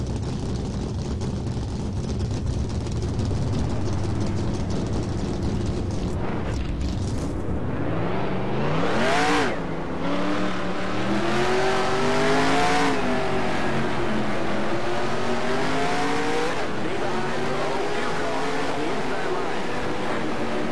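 Race car engines in NASCAR Racing 2003, a pack of stock cars droning and revving, with pitches sweeping up and down as cars accelerate, loud and continuous, with someone speaking over it.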